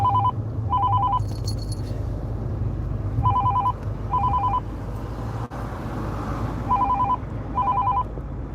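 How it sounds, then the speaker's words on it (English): A telephone rings in repeated two-tone bursts, pairs of trills separated by pauses, loud and near over a steady hum of background noise and room rumble. "Phone always ringing when I'm on live."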